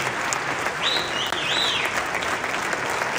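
Steady, dense applause from a large crowd of business owners at a Bloomberg event, played back from a recording, continuous clapping at an even level throughout with no break.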